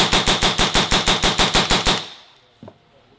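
A RAP4 468 paintball gun dry fires in a rapid burst of about fourteen loud, evenly spaced mechanical clacks, then stops and leaves a faint tail and one small knock.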